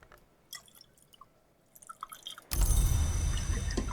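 Coffee poured in the video game Book of Hours: scattered small drips and clinks, then a sudden loud, steady pouring rush of liquid that continues to the end.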